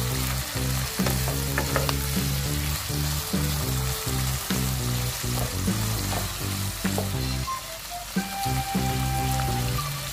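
Carrots being stirred in a pan while cooking sapo tahu, with a steady close sizzle of frying and repeated scraping stir strokes throughout, no talking.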